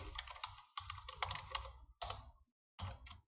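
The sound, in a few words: typing on a computer keyboard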